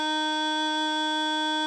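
A single steady D note on a bagpipe practice chanter, a clear reedy buzzing tone held evenly for almost two seconds before stopping abruptly, close and alone.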